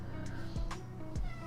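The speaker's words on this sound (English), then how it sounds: "My cat just meowed." A pet cat meows twice, short and fairly close, over quiet room tone in a home art studio.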